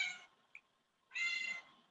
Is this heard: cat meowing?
yes